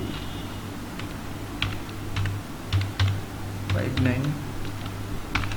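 Keys tapped on a computer keyboard while entering a GST number into an Excel spreadsheet, a run of irregular clicks under someone talking throughout, with a steady low hum behind.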